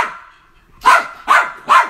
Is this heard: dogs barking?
yes